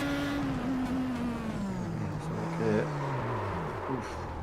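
A racing car in a simulated championship race at Zolder spins off the track after heavy braking, its engine note dropping and wavering through the spin, with tyre noise, heard under faint commentary.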